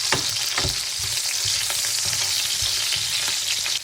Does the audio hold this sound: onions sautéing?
yes